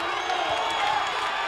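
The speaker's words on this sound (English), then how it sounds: "Crowd is into this one now, though." A basketball crowd at a 1998 Utah Utes versus Weber State men's game roars in a steady, broad wash of cheering and shouting, loud and sustained throughout.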